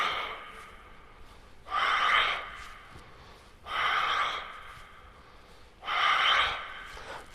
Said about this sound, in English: Full breathe out, improve your breathe out.